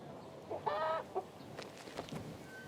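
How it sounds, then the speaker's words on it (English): A chicken in the fantasy game King's Bounty II gives a few short clucks and one brief squawk, fairly faint against a quiet background. "Quit that cheeping, you green freak. Stupid chicken."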